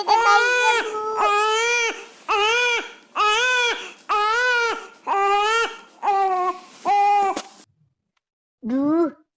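Wailing cries of a baby left alone, a string of eight rhythmic, pitch-bending howls at close range, then a pause and one final cry; the tone sits close to a cat's meow.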